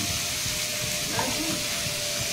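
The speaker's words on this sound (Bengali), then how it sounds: "এবার এই মশলাটাকে একটু ভালো করে কষিয়ে নেবো" Spice paste with salt fries in a pan for a Bengali fish or chicken curry. It gives a steady, loud, hissing sizzle that runs without a break from start to finish.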